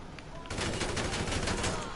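Gunfire in a video game, aimed at a stuck car, starts after a brief quieter moment and becomes a fairly quiet but steady stream of rapid shots with no talking.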